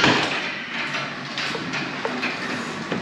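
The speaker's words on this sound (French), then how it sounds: "Ouvre la porte de garage" A garage door opens on a controller command, giving a steady mechanical rumble and rattle with a few faint clanks. The sound runs continuously and fairly close, with no talking.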